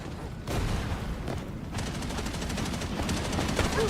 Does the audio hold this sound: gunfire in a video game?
yes